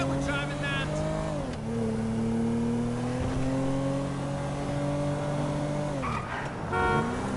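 A car in GTA 5 played on PS5 drives hard, its engine note holding steady then dropping and rising with gear changes and revs, with brief tyre screeches near the start and end, loud and close throughout.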